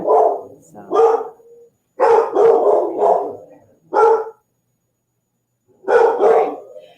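Several dogs bark indoors in loud, close bursts, clustered volleys separated by brief pauses, with yips mixed in.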